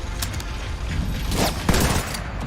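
Rapid gunfire bursts in a tactical shooter video game with a sniper, dense overlapping shots and a sharper crack near the end, loud and continuous throughout.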